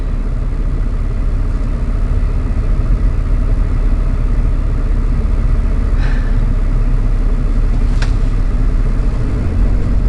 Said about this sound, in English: There's a truck coming out.